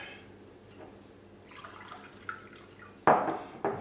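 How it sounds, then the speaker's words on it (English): Water is poured into one of three drinking glasses, at first a faint trickle, then a few sharp, bright splashes and pouring bursts near the end. "what I'm going to do is just going to fill up the 3 glasses"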